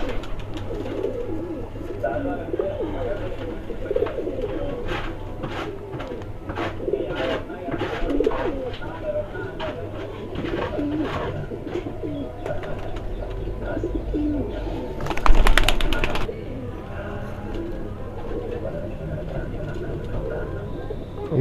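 Domestic myna line racing pigeons coo softly and repeatedly against steady background noise, with a louder burst partway through and some low voices nearby.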